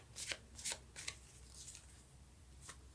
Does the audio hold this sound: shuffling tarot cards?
yes